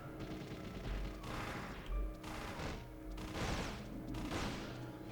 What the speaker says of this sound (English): Maybe I can just stand there and shoot it.